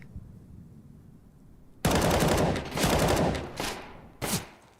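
Rapid pistol gunfire in a Counter-Strike match, loud bursts of overlapping shots starting abruptly and continuing in clusters, with a final sharp volley near the end.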